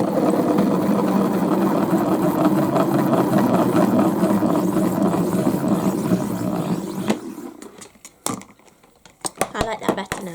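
Salad spinner whirring with paint inside, a steady close mechanical spinning hum for about seven seconds that winds down, followed by faint clicks and handling noises.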